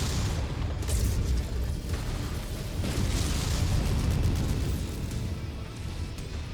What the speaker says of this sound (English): I thought that was me firing missiles there